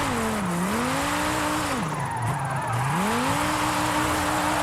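A car drifting in Forza Horizon 5, engine note rising and dipping in sweeping arcs as it slides, with tire squeal across a continuous, loud, close run and no talking.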